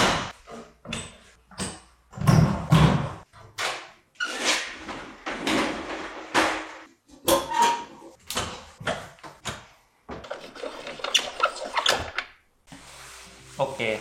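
Wooden closet doors in a Japanese home being slid and swung open one after another, a string of short knocks, clacks and squeaks with someone talking between them.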